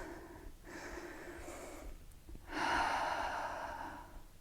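Slow, audible breathing during a hamstring stretch in a full-body workout, steady and close with a stronger breath in the second half, no talking.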